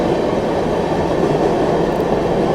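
An Indian passenger train of ICF coaches rolls past close by, a loud, steady rushing rumble of wheels on track with no voices over it.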